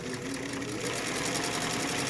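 A sewing machine stitches continuously along a side seam pocket on a garment, a steady, fairly loud mechanical whir with a fast, even needle rhythm throughout.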